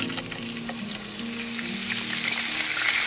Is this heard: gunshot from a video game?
no